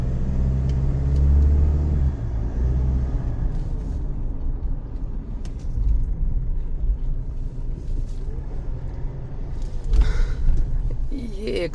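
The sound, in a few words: car being driven and parked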